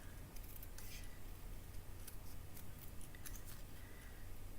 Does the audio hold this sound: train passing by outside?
no